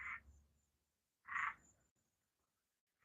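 A frog croaks in a garden. Two short, distinct croaks come about a second apart, with the start of a third at the end. The calls are faint and come from a little way off, with quiet gaps between them.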